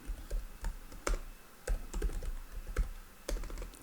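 Quick clattering keystrokes on a computer keyboard, uneven bursts of close clicks and thumps with no voice over them.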